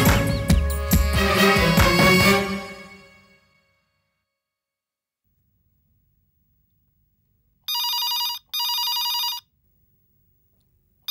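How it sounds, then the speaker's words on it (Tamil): Telephone ringing in a home, two short electronic ring bursts after a fading musical passage and a stretch of silence, clear and near. "போன் அடிக்குது பாருமா"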